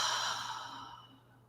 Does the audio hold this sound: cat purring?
no